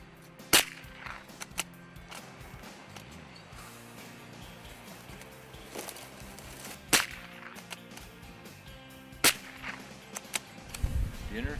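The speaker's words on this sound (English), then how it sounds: "The guide stops and shoots some ptarmigan." A hunting guide fires at ptarmigan in the British Columbia mountains: three sharp, loud gunshots spread several seconds apart over a low steady background rumble, with a few fainter knocks between them.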